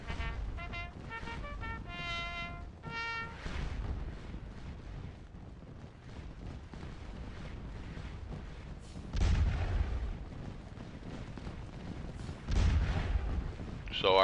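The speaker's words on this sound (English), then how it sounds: "So our guns have already started opening on them." Artillery fire in the Napoleonic battle game Scourge of War Waterloo at Ligny, with distant rumbling cannon booms over a busy battlefield din and a few heavier blasts later on.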